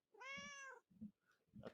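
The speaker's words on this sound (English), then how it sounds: "I don't know if you guys could hear her meow." A pet cat named Belle gives one long, clear meow close to a microphone, followed by a couple of softer, shorter mewing sounds and faint rustling in a quiet room.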